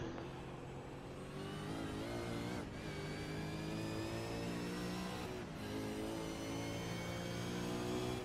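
V8 Supercars Mustang race cars at Imola, engines howling as they pass, with a rising whine, two brief gear-change dips and renewed acceleration, loud and continuous throughout.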